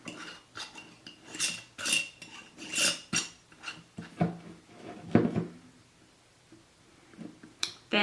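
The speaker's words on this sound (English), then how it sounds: "Then put the lid on the jar." A lid goes onto a glass jar for a homemade thermometer experiment, producing a series of close, sharp clinks and scrapes of metal on glass, then a brief quiet before a final tap.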